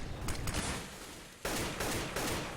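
Rapid gunfire rattles through a competitive video game tournament match, with dense overlapping shots and bursts that swell louder midway, sustained and close with no talking.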